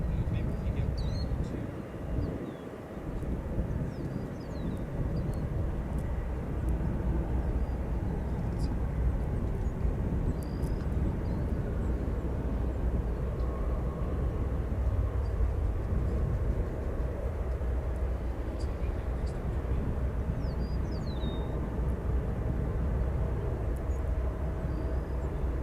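Low, steady roar of an Airbus A320 airliner at O'Hare Airport, a distant rumble sustained throughout, with faint bird calls and voices over it.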